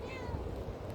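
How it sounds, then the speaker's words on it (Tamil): A cat meowing close by, with steady overlapping meows filling the short moment, no talking. "அழகான ஒரு பூனை, அருமையான ஒரு பூனை"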